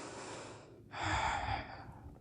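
A deep, steady inhale through the nose during a yoga session, rising after a brief pause and swelling for about a second before tapering into quieter breath, close and alone without talk.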